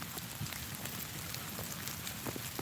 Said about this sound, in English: Man, it's raining pretty hard.